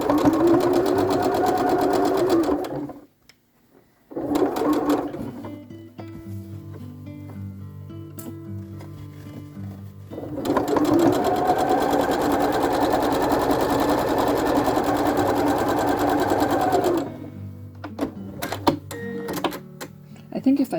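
Home sewing machine running through quilt appliqué, a steady mechanical whir with a fast stitching rhythm in long runs broken by short pauses and a stretch of lower, slower motor hum, heard up close.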